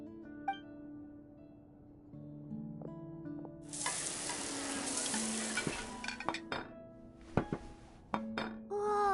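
Food cooked in a Genshin Impact kitchen scene: a sustained sizzle of frying starts partway through, with clinks of pots, pans and utensils and a few short musical tones around it, and no voices.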